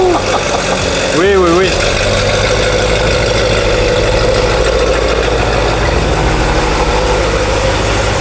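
A Corvette C7 Z06 with aftermarket headers idles inside a garage, a loud, steady, deep rumble that fills the space after a brief rev, with people talking over it.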